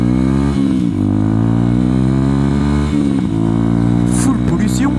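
A 125cc motorcycle with a nearly open exhaust, catalytic converter removed, idles and revs loudly up close, a buzzing harmonic drone that dips and rises with throttle blips.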